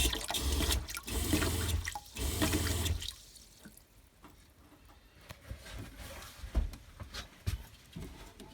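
Cold water runs from a camper van tap, coming in strong gushing bursts at first, then settling into a quieter trickle with scattered drips and clunks.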